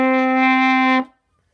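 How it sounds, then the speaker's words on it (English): One sustained trumpet G note, loud and clear with a rich, steady tone, held for about a second and then stopped abruptly, leaving silence. "you have to do it like a G note like this."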